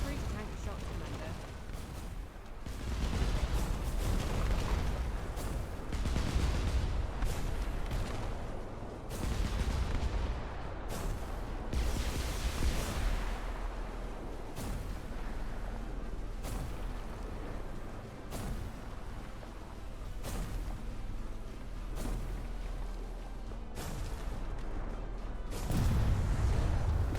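Airship cannon fire and shots in the game Airship: Kingdoms Adrift, a dense, continuous barrage of booms and sharp reports with louder bursts recurring throughout, under occasional talk.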